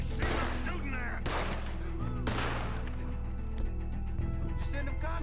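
Gunfire in Red Dead Redemption 2: several sharp, loud shots with broadband cracks set over a dense, continuous game soundtrack and ambience, with scattered further reports trailing off.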